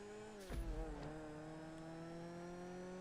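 Sports car engine in GTA Online racing the last corners, a steady loud drone with falling and rising revs, a brief low thump and tire scrub near the start, then sustained high-pitched engine tone across the line.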